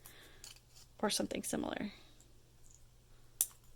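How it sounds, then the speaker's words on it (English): Sharp scissors snipping aluminum can strips, making a few crisp metallic clicks and snaps close by, with a brief spoken remark in between. "you can just use a pair of sharp scissors and accomplish the same thing"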